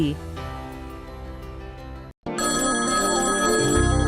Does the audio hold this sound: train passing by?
no